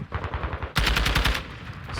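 Rapid automatic gunfire in a competitive shooter video game match, a quick patter of shots that jumps to a louder, close, sustained burst midway.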